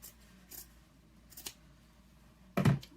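Scissors snip around a piece of fabric for a tumbler craft, with a few faint closes of the blades at first and then one sharp, loud crunching cut near the end. The setting is otherwise quiet.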